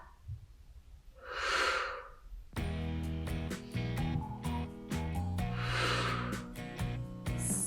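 A long breathy exhale rises and fades during a yoga strength exercise for side crow pose, close and soft, followed by steady background music.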